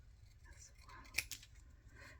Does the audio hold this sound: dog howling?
no